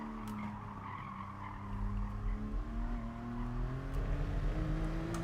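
A race car in Gran Turismo Sport skids with a sustained tire squeal as it slides and starts to swap ends, engine droning steadily beneath and growing louder toward the end; no voices.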